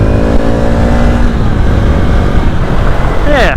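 Motorcycle engine pulling hard in third gear, a loud, steady close-up roar with rising harmonics, ending in a quick upward sweep as the revs climb.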